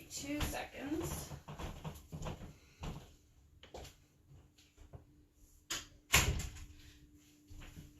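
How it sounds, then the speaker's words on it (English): A bedroom or home-office door is closed with a solid thump near the six-second mark, amid scattered handling knocks and rustles while someone talks. "I'm just gonna close my door."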